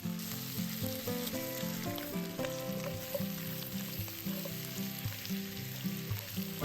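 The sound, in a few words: pork ribs stir frying in sugar in a hot pan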